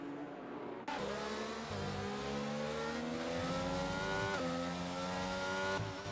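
Formula 1 race cars in F1 2022 at Bahrain, with loud, continuous high-revving engines overlapping as cars jostle and overtake, pitches rising and shifting through gear changes.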